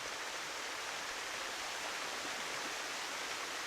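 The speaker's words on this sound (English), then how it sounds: "there's a waterfall here" Steady rushing waterfall in the survival game SCUM, a continuous broadband roar of falling water along a city canal, even and unbroken throughout at moderate level with no voices.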